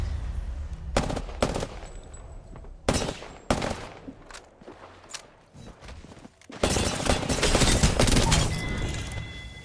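Gunfire in the video game Apex Legends, several sharp separate shots and short bursts, then a long loud stretch of rapid continuous automatic fire.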